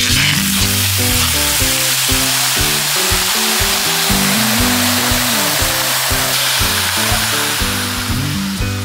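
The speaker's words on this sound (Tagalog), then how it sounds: "Mainit na yung kawali natin, ilagay na natin tong mga chicharong bulaklak." Chicharong bulaklak (pork mesentery) sizzles steadily in a hot pan with no added water or oil, a loud, continuous frying hiss that runs under prominent music throughout.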